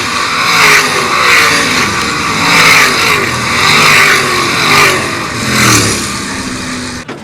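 Sprint race cars tearing around the dirt oval at Attica Raceway Park, engines roaring loud and close in repeated rising and fading sweeps as the cars pass one after another.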